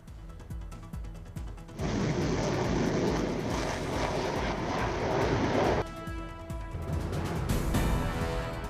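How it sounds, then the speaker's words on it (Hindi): Six MiG-21 fighter jets of 23 Squadron fly over Chandigarh air base on their final farewell flight. A loud, broad jet roar swells and holds for about four seconds, then eases into a lingering rumble, with no voices. "23 स्क्वाड्रन के साथ 6 MiG-21 ने भरी आखिरी उड़ान।"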